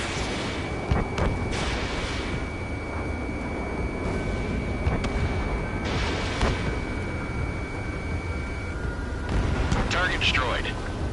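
Missile explosions and jet combat in Ace Combat 7, a steady roar of aircraft engines under a few sharp blasts and thuds, with radio voices talking over the action.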